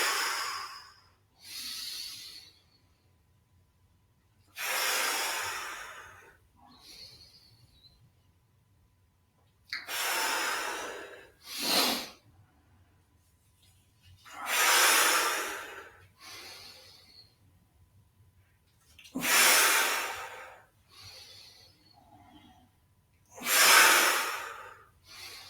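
Exaggerated breaths out during a breathing exercise: five loud, drawn-out exhalations, each lasting about a second or two and each followed by a shorter breath, spaced evenly in a slow rhythm, heard close up with no talking.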